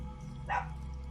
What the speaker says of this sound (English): I heard a dog.